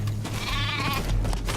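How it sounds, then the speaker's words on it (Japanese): A sheep in the video game Metal Gear Survive lets out a single wavering bleat, close and clear over a steady low background hum. "仲間が羊を追い立ててくれた。"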